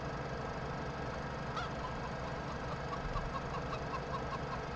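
Chickens cluck in a coop in Farming Simulator 17, faint and scattered over a steady low background hum, with no voices.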